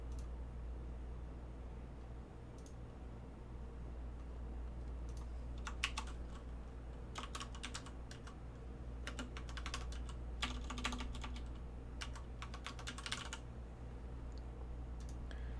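Fingers type on a computer keyboard in irregular bursts of soft clicks over a steady low hum, close but quiet, with pauses between runs of keystrokes.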